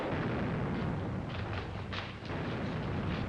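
Gunfire in a 1938 spy thriller rumbles as a dense, continuous barrage of distant shots and booming blasts, muffled and noisy like an old film soundtrack, with no clear individual reports.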